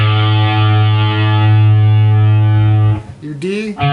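A distorted electric guitar sounds its open A string, tuned down to A430, as one loud, sustained note for about three seconds. It is followed by brief string noise and a short sliding squeal.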